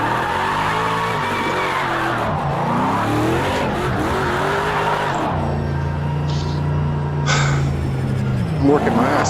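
Chelsea DeNofa's RTR FD Mustang being drifted in Project Cars 2, a loud, continuous engine drone that rises and falls with gear changes, tire squeal and skidding mixed in, and someone talking over it.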